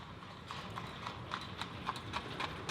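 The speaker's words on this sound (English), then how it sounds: "Horse and buggy." Horse and buggy clip-clopping along a small-town Main Street, the hoofbeats rising and falling in a steady rhythm at moderate distance over a low background hum.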